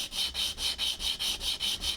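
A fake brass acoustic guitar nut, actually some white metal, being sanded in steady back-and-forth strokes, about eight even rasping passes in two seconds, close and loud with no talking.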